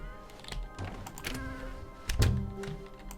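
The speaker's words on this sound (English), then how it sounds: "I like how it makes the button press the noise when I'm clicking on coffee" In the video game The Stanley Parable, clicking on coffee sets off sharp button-press clicks and soft thunks, several irregular taps over quiet background tones with no speech.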